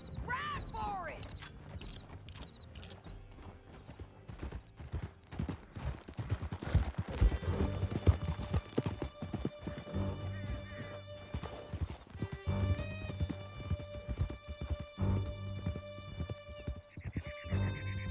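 Horses gallop with steady clip-clop hoofbeats and occasional neighs during a canyon chase in the Red Dead Redemption 2 video game, set under a loud musical score, with brief voices and a scattering of distant gunshots.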